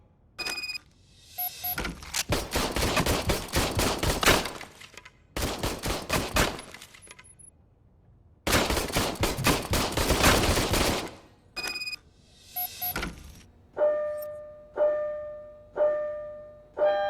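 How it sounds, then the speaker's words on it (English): An old service gun fires in long, dense bursts of rapid shots in RoboCop: Rogue City, with three loud volleys separated by short pauses, followed by a few sharp ringing electronic tones. "I was issued this old gun and serviced it according to the manual. I will try it out."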